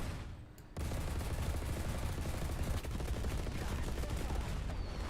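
An aircraft gun fires at Russian tanks in a combat flight game: after a brief lull, a dense, continuous burst of rapid cannon fire runs steadily and loudly to the end.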